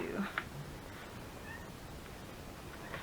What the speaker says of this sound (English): The cats have been running around like crazy